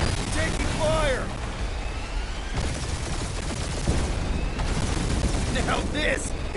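Rapid bursts of blaster gunfire crackle through a dogfight in Guardians of the Galaxy, with repeated volleys and whooshing passes over loud engine noise and intermittent character voices.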